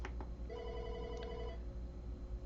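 A desk phone rings out for an outgoing call, one sustained electronic ring tone lasting about a second after a couple of brief clicks, with a faint steady hum behind it.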